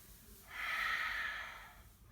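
A single slow, audible breath drawn during a yoga exercise, a soft airy rush that swells and fades over about a second, close to the microphone with no talk.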